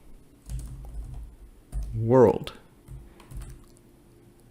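A few keyboard taps while entering a line of Python code, soft clicks in short bursts that sit beneath someone speaking.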